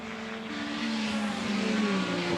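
Race cars at speed in the 2015 Sussex Trophy, including an Aston Martin, with engines roaring loudly and close as they climb through the gears, their tones rising and falling over a couple of seconds.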